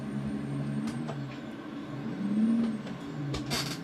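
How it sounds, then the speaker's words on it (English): A truck drives under steady low engine drone while the driver double clutches, with a rising rev blip midway and short hissing air bursts near the end. "I'm still trying to get the hang of double clutching."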